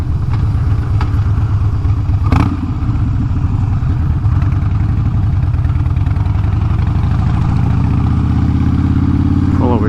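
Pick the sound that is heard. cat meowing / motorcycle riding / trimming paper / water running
motorcycle riding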